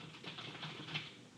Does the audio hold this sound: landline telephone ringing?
no